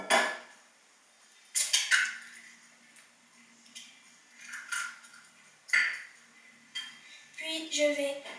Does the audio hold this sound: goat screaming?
no